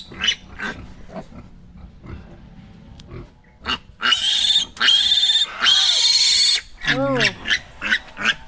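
Piglets squeal loudly and repeatedly while their tails and teeth are being cut, with long shrill cries in bursts over people talking nearby.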